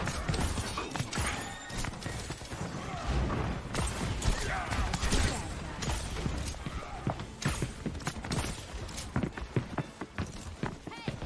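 Heavy stomping footsteps of Cassidy, a hero in the video game Overwatch, run as a rapid series of thuds within dense, busy match audio of gunfire and effects.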